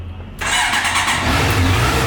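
A stock Honda 650 CBR motorcycle engine starts up after a brief quiet moment, then runs loud and close with a steady, full mechanical roar for about two seconds.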